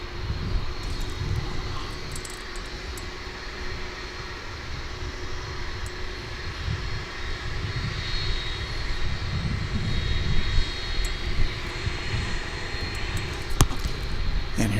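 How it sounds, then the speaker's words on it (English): An Airbus A300 jet rolling along at Dallas/Fort Worth International Airport just after landing, a steady broad engine roar holding loud and constant throughout, with no talk over it. "There's the A300 we just saw landing."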